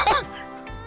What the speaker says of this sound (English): sorry, I coughed